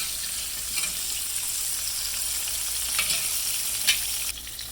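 Mustard-coated fish frying in hot oil, a steady close sizzle with light crackles and pops throughout, with no talk.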